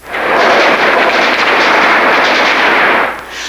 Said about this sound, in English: Downtown Tbilisi crackled with machine gun fire